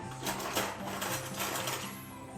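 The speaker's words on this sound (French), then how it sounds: "Et avec un batteur ou un pétrin," An electric mixer whips whole cream at 30% fat in a bowl, a steady buzzing motor whir with rhythmic pulsing beater chatter, close and continuous for the whole stretch.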